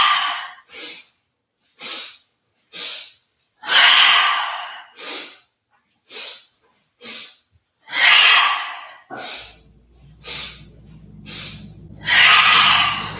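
Paced yoga breathing during a vinyasa session: a series of short, sharp nasal inhales in quick groups, each followed by a longer, fuller exhale, repeated rhythmically and close up, with a low hum entering near the end.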